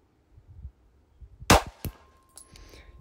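A single sharp gunshot from an FN 509 pistol fired with iron sights at a range, one loud crack after a quiet stretch of faint shuffling, then a brief metallic clink.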